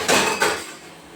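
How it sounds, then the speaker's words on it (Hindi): Dishes and leaf plates clattering in a kitchen sink during washing, two quick close knocks followed by a fading rattle, with no talk. "मैं इन पत्तलों को साफ कर करके रख रही हूँ फ्रेंड"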